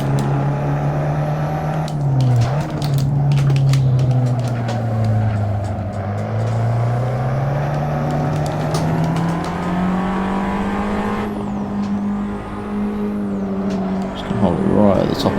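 A race car in the Assetto Corsa sim, its engine loud and close, climbs steadily through the revs, then short-shifts at the top of second gear with a dip in pitch before pulling hard again, tire noise at the end.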